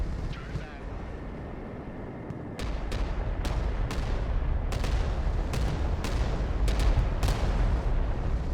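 Missiles and gunfire destroying enemy vehicles in a modern real-time strategy video game, with a rumbling low roar and a rapid series of sharp, loud blasts and cracks close by.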